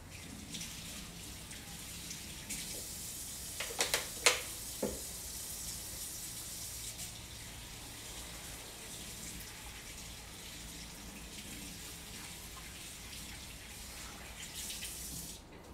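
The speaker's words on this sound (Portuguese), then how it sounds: "Só lavar minha mão." Hands washed under a running kitchen tap, a continuous hiss of water with a few sharp clinks and splashes early on, then an even steady flow, close and moderate in volume.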